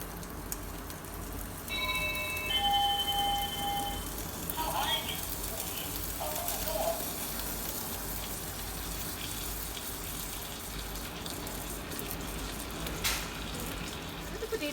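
Potatoes coated in spices and garlic butter fry in a hot pan with a continuous, rain-like sizzle and spatter, plus a few brief tonal beeps early on.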